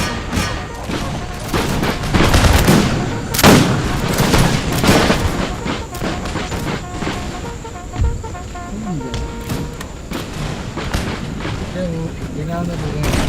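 Musket volleys and artillery fire in a Total War Empire American Revolution battle, a dense stream of overlapping gunshots and booms running continuously under scattered talk and game sounds.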